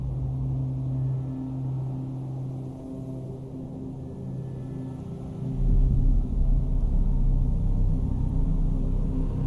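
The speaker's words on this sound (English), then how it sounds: "The storm had arrived, and it was intense." Blizzard storm wind in Minecraft in the Himalayas, a steady low rumbling roar that swells louder halfway through and stays heavy and constant, with no talking.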